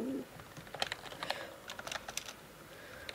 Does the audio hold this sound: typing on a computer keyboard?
yes